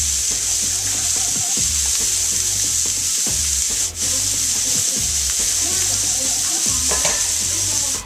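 Hamburger patties sizzle steadily in a hot pan with a loud, continuous hiss, broken by periodic scraping and thumping as they are flipped and shifted.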